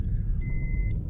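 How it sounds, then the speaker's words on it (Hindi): A 1200cc petrol engine in a 2021 Maruti Suzuki Baleno Delta idles steadily just after starting, a continuous low rumble with a faint tonal whine above it, even and unbroken throughout. "तो गाड़ी में हम स्टार्ट कर चुके हैं"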